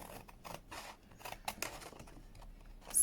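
Paper being cut by hand with scissors during a craft project, a quick series of crisp snips and slicing strokes, close and fairly quiet, with no talking.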